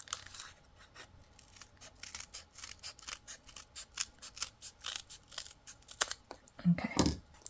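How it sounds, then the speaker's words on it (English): Scissors snip steadily around a crochet pattern piece for a Dr. Finklestein crochet kit, a close rhythmic series of crisp cuts with some paper crinkling and a brief voice near the end. "then you can cut around your pattern"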